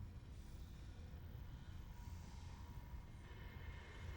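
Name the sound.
train ride in the Dead Space video game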